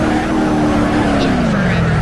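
In BeamNG Drive, a powerful car with thin tyres drifts, its engine droning loudly and steadily with a sliding pitch while tyres scrub, with no voices.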